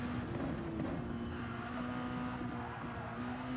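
A race car engine holds a steady high drone at Red Bull Ring in Spielberg, Austria, in a sim racing video game, the throttle held with only slight shifts in pitch, loud and continuous.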